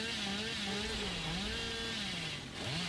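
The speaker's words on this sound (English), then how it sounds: "as Jinxie can just rev this chainsaw for the entirety of this stage" Billy's chainsaw in the game Dead by Daylight, a continuous buzzing engine rev with a slightly wavering pitch, steady and fairly close throughout with only a brief dip near the end.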